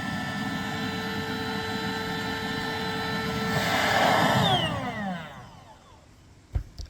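A Bestway Alwayzaire queen air mattress's built-in pump inflating, a steady motor whine with a tonal hum that swells louder and shifts pitch, then winds down and cuts off, followed by a couple of soft clicks.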